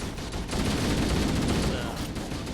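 Sustained automatic assault rifle fire in Halo: Combat Evolved, a dense, loud, rapid stream of shots that runs continuously with no pause.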